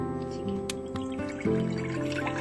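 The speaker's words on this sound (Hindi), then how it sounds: "फिर हम इसमें पानी डालेंगे।" Water is poured into a cooking pot holding potatoes, with splashing and dripping that is quiet and uneven and rises briefly partway through.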